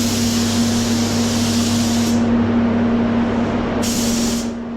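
A paint spray gun applies a blending coat to a car wing and bonnet corner, giving a loud, continuous close-up hiss of spraying air with a steady underlying hum, the high airy edge dropping out briefly partway through.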